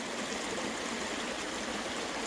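A river flows past the bank in a steady, full rush of water, close and loud, with no voices.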